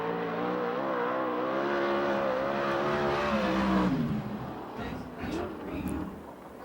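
A 410 sprint car races on a dirt oval at Perris, California, during a USAC/CRA season opener, its engine screaming with a rising then falling pitch as it passes. A commentator talks over it.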